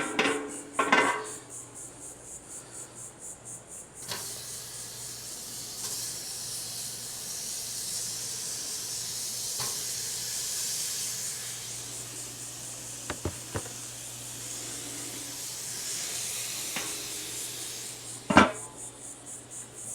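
Seasoned meat laid on a campsite grill gives a long steady sizzling hiss. A few metallic clinks of utensils come at the start and near the end, and there is no talking.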